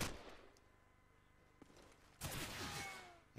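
Bursts of rifle and automatic gunfire in the shooter Call of Duty 4 during a competitive match. Faint distant shots come first, then a loud close barrage near the end, with no voices.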